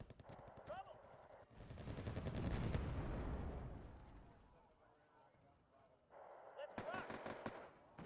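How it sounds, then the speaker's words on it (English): Artillery bombardment in the Cold War strategy game Wargame: AirLand Battle, a swelling roll of distant booms and gunfire that peaks and fades, with further sharp cracks near the end and someone talking over parts of it. "Just randomly bombarding the place."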